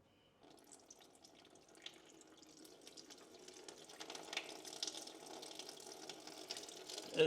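Coolant draining from the radiator of a first-generation Toyota 4Runner, a liquid stream pouring and splashing into a container, starting faint and building steadily louder over several seconds with no talk.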